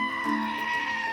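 A goat gives a single loud, sustained, wavering bleat that fills the short moment close up, with no voices present.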